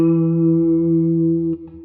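A single sustained E note on an electric guitar, fretted at the 7th fret of the 5th string, rings loud and steady through chorus and distortion effects, then is damped near the end.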